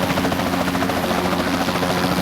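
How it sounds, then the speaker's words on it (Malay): Continuous whirring rotor noise from an elite helicopter in the Kaskade video game, loud and even with a pulsing low hum and bright buzzy overtones, no speech over it. "Aku langgar dengan elite helikopter"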